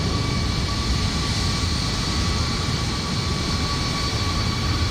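A Fenix A320 airliner taxis in MSFS 2020, its jet engines giving a steady, even roar with a faint high whine that holds unchanged throughout, and no voices.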